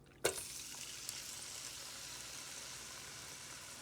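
Shrimp hit a hot pan of olive oil with a sudden sizzle that settles into a steady, soft frying hiss, with no voices.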